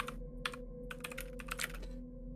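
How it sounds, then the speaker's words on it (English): Someone types on a computer keyboard in quick irregular bursts of clicks with short pauses between, close and faint over a low steady hum. "he's typing stuff out"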